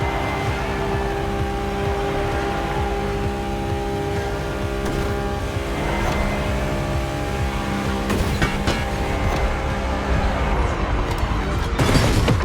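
Ferrari F80 supercar engine in the racing game The Crew Motorfest, a loud continuous roar that holds steady and then swells toward the end, with no talking.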